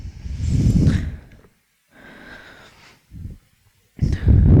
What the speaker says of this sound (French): Toujours au rythme de notre respiration profonde que l'on allonge